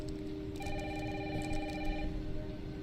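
A telephone rings once in a steady electronic trill lasting about a second and a half, moderately loud over a constant background hum with heavy rain, and no one talks.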